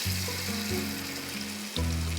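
Eggplant slices hit hot oil in a home kitchen and sizzle softly and steadily, with a low, stepped humming tone running beneath the frying.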